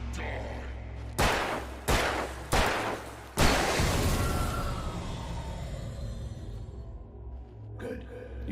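A gun fires in the video game Alan Wake Remastered: four loud, evenly spaced shots, the last one booming and trailing off into a long echoing rumble.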